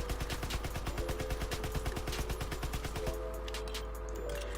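Rapid bursts of Grease Gun submachine gun fire in Call of Duty WW2, a fast rhythmic stream of loud, close shots for about three seconds, then a short tail of lighter fire and echo.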